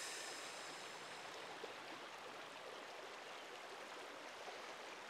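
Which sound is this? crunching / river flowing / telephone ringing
river flowing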